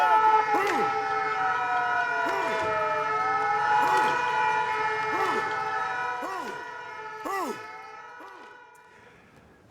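Several fire engine sirens from the Fontvieille fire station in Monaco wail together in repeated rising and falling sweeps, loud and sustained across the whole stretch before easing off at the end.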